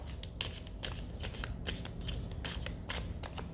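Tarot cards being shuffled by hand, a continuous dry riffling with repeated bursts of flicking, close up and steady.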